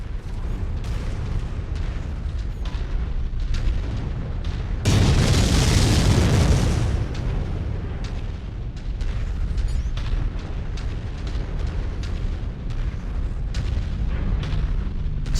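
Heavy mech weapons fire and explosions in MechWarrior 5 as a tank is destroyed: a dense, sustained broadband blast roughly a third of the way in, surrounded by repeated booming shots and rumbling bursts throughout.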